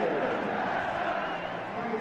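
Capacity football crowd at Wimbledon's ground, mostly Manchester United supporters, greeting the manager: a steady, dense roar of cheering and chatter sustained throughout, broad and fairly loud with no single voice standing out.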